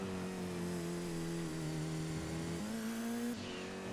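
A four-wheel drive car in Gran Turismo 2 holds a steady, loud engine drone, with the pitch dipping and rising through gear changes as it takes a corner around 50 to 55 miles an hour.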